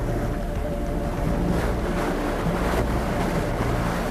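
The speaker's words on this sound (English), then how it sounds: "There's a very strong draft right there." Strong wind roaring over the crater of Masaya Volcano, a dense, continuous rumble buffeting the microphone with gusty surges and no pauses.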